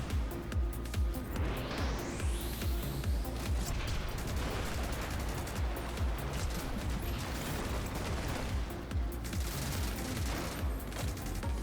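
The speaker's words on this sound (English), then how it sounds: "Someone had a machine gun behind us." Rapid machine gun fire from behind the player in the futuristic racing game Flashout 3, loud dense bursts rattling continuously over a roaring engine and whooshing race sounds.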